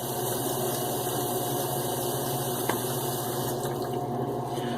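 Running water wetting facial whiskers before a head and face shave, a steady close hiss of flowing tap water with a faint pump-like hum underneath and no talking.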